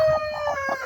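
A hen clucks in a short run of soft, close, rhythmic clucks, with a steady high tone running underneath.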